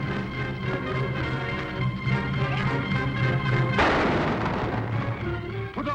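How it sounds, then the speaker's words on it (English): Gunfire in a 1950 television western: a series of sharp, booming shots crack out over a rumbling, music-filled soundtrack, with one larger burst midway. "Good shooting, Cisco."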